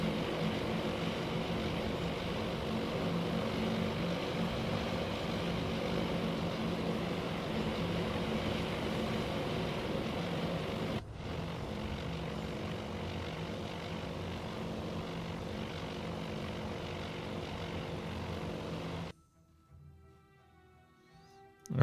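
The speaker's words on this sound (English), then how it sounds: "We got more bombers coming." Bomber aircraft engines in the naval combat game Task Force Admiral produce a continuous heavy propeller drone, steady and loud for a long stretch before cutting abruptly to near quiet.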